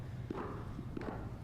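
Someone's footsteps descend stairs from the crypt of the Capitol, a few soft, evenly spaced steps heard faintly at a distance amid quiet room ambience.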